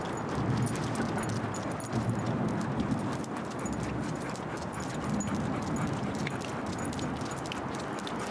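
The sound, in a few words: dog being walked on a leash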